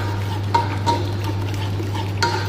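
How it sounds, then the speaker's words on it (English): A spoon stirs rice mixed with a little yogurt in a pot, with faint scraping and soft clinks over a low steady hum, close and unhurried. "and mix well"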